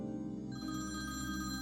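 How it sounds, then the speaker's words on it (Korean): A telephone rings with an incoming call, a steady electronic ringing tone that sounds moderately close and fairly soft, continuing without any voices. "수지가 고객을 만나러 회사를 나가고 몇 시간이 흐른 뒤 수지의 엄마에게 전화 한 통이 걸려옵니다."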